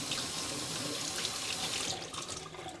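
Tap water runs steadily into a vessel for rinsing between zinc plating steps at home, a close, continuous hiss and splash that thins slightly toward the end, with no one speaking.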